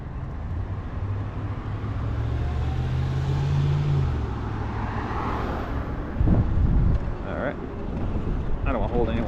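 Heavy road traffic near South Hills rumbles steadily and loudly, with cars passing close and a deep engine swell midway, all mixed with buffeting wind noise on the microphone.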